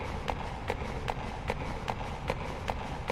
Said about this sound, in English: I love footstep sounds